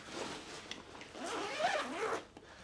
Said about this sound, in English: So let's open up the bag.